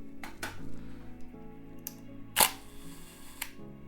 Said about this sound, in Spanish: cuando yo suelto es cuando este obturador trasero cierra